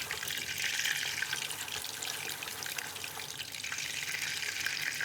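Butter sizzles steadily as it browns in a pan for a dessert recipe, giving a dense, continuous hiss and crackle at a close, even level with no talk.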